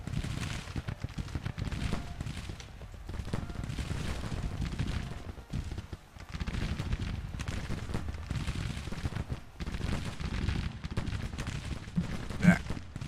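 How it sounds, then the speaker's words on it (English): Dense, continuous booming and crackling fire in Grand Tactician: The Civil War as an artillery battery fires on a brigade, a rumbling battle din with overlapping reports and no clear gaps. "Right now, it looks like this battery's firing at this brigade"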